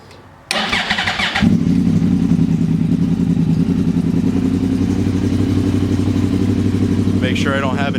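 A motorcycle engine with a freshly repacked exhaust cranks briefly, then fires and settles into a steady, loud idle close by. A light metallic clatter comes in near the end.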